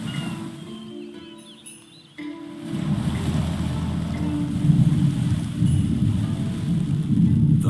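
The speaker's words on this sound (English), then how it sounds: "The waves are unforgiving." Ocean waves from the Shogun 2 Total War video game wash in a steady, rumbling surge that begins quieter and swells louder after a brief lull, with no talking.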